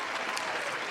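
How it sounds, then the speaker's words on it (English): Applause sound effect fired from a soundboard button: a dense, steady wash of clapping and crowd noise held at even loudness for under a second, with no talking over it. "Let me hit the applause button, man."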